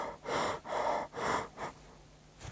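A person demonstrating high, shallow breathing: four quick, audible breaths in a steady rhythm, close and fairly loud, with a final short breath at the end.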